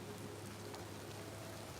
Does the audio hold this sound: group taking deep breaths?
no